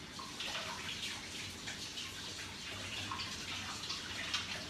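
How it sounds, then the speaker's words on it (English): Water runs from a kitchen tap as hands are washed under it, a steady, soft hiss and splash with faint irregular spatter, heard close and alone without talking. "I'm gonna wash my hands real quick for you guys."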